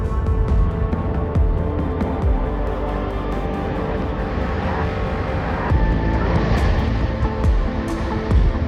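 A light aircraft on two-mile final approach sends a steady, continuous engine drone and rumble through the whole stretch, loud and close with slight rises and falls in level, and no voices heard.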